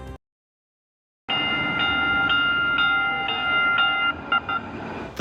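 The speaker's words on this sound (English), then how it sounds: "as this train pulls into the Van Buren station" A Valley Metro light rail train pulling into Van Buren station in Phoenix, a loud steady rumble with sustained tonal whine and a few short brake or signal chirps, after a brief silence at the start.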